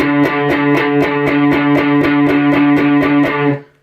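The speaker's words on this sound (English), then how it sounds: "I use my pinky, 10th fret of the low E" A distorted electric guitar plays a tight, rapid chug on the low E string at the 10th fret, the other strings muted, with about a dozen evenly spaced loud palm-muted hits over a sustained low drone, ending abruptly.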